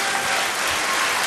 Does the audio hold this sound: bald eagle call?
no